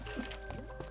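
Water placed from a bucket in Minecraft, a short liquid splash and gurgle lasting under a second, close and clear over a steady background hum.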